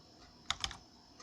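Short burst of computer keyboard typing in a quiet room, a few quick keystrokes clustered together, close and fairly faint.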